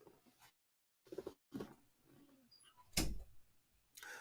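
A door swings shut indoors with one sharp, loud thud, preceded by faint shuffling and a brief silent gap, with quieter movement noises trailing after.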